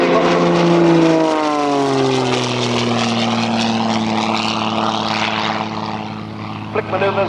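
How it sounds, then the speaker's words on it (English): Light aerobatic plane rolling through a display at a British air show, its propeller engine droning loud and steady with a falling pitch as it dives, then fading slightly toward the end. "Watch him as he pushes over the top, doesn't quite come down into his own smoke, rolling several times on the way down."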